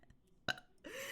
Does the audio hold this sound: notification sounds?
no